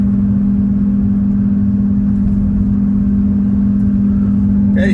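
Car driving through a quiet LSU campus in Baton Rouge after Hurricane Ida, a steady low engine drone and road noise holding evenly from start to finish, with no voices.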